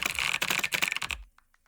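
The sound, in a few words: typing sound effects from a video game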